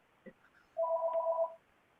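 A telephone rings once, a single loud electronic tone held for under a second, preceded by a faint short blip in an otherwise quiet room.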